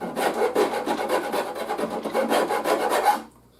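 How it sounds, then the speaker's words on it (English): A rasp bevels a wooden bass guitar neck in rapid, scratchy back-and-forth strokes, close and steady for a few seconds before stopping. "starting to bevel the neck here so that it starts to come down and blend in"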